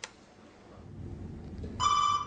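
A telephone rings during a guessing game about who is calling, a short electronic trill bursting in after a moment of quiet low room noise, fairly close and clear.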